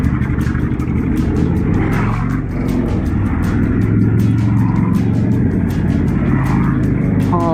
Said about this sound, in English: there's a ton of bikers coming behind me now